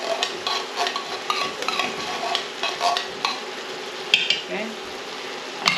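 A spoon stirs creamy chicken tetrazzini sauce in a pan with repeated scraping and gloopy clicks over a soft sizzle, close and fairly loud, with no talk.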